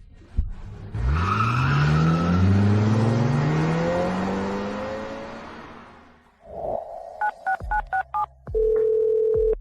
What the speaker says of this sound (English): A woman was hit by a car.